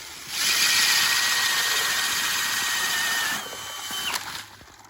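An engine-powered earth drill, fresh out of the box, runs loud and steady for about three seconds outdoors in winter snow, then drops to a lower idle with a brief rise before fading.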